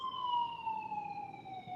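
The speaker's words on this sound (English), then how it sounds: "Okay, no, it's the ambulance." An ambulance siren wails from a short distance, its tone sliding slowly downward as it holds steady over faint road rumble, with no voices.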